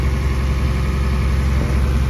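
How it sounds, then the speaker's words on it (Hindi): A ship's engine running inside the engine room of a Halong Bay cruise boat in Vietnam, a steady, loud low drone with an even mechanical hum and no voices. "तो ये शिप का इंजन रूम है"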